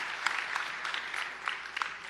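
An audience at a town hall meeting on property taxes claps for a person who asked a question. The applause is moderate and sustained, with scattered sharp claps throughout.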